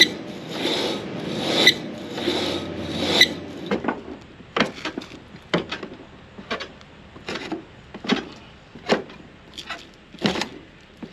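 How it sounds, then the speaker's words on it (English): A drive belt on a Case 8250 combine turned back and forth by hand gives rough rasping and rubbing strokes, a dense scraping stretch followed by a series of separate close, sharp scuffs and squeaks. "So we'll grab this belt, turn it back and forth, make sure it sounds okay and it is free."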